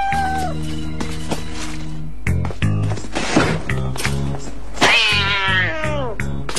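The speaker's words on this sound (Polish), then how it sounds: "to twój kot?" Cartoon cat meowing amid a busy animated soundtrack, a loud drawn-out meow followed by a rising yowl, mixed with music, thumps and scurrying effects.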